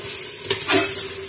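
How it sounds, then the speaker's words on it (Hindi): Mutton and potatoes sizzle and splatter in a hot pan, a steady frying hiss with a stirring scrape and a brief louder burst of spitting, no talking. "मैं ढकना इसलिए रख रहा हूं कि बहुत छींटे पड़ रहा है"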